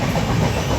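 Passenger train running at night on the Mumbai to Kolkata route, a steady close rumble of the carriage with faint clickety-clack, heard from inside the coach.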